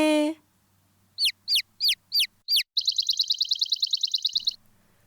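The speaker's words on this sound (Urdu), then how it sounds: "So the birds tweeted and said," Short bright chirps from small birds, a run of five separate sharp tweets followed by a rapid trilling twitter, close and clear, with a brief voice at the very start.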